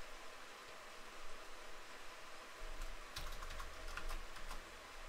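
Typing on a computer keyboard while writing a basic C program, a short burst of quick, faint key clicks up close against steady background hiss.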